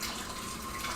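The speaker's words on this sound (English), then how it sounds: "Gotta rinse my hands." Water from a kitchen tap running steadily as hands are rinsed, a brief close hiss of flowing water with no talking.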